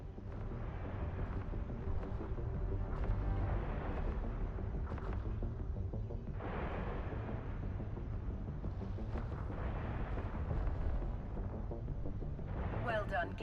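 Ship weapons fire and explosions boom in the space game Eve Online, a continuous heavy rumble with repeated blasts swelling and fading, loud and close throughout.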